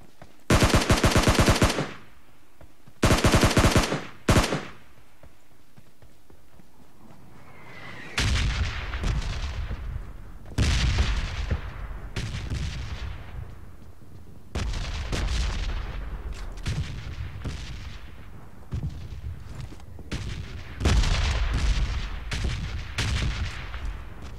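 Gunfire and bombing inside the battle-royale game PUBG: loud rapid automatic bursts open the clip, then a long run of heavy booming impacts and blasts, each with a rumbling tail, continuing steadily with no talk.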